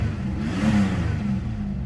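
Low, steady burble from the V6 engine of a 1985 Mitsubishi V3000 idling, quiet and even with a slight swell midway, alone without voices.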